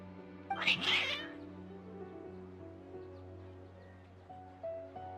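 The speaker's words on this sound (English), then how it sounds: "Your cats seem pretty worked up." Agitated cats in Genshin Impact give a short, sharp meow near the start. Steady game music and ambience run underneath.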